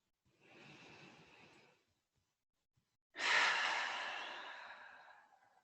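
Two slow, deep breaths during a yoga session for anxiety relief: a soft inhale, a brief pause, then a louder, longer exhale that fades out, close and clear, with no talk.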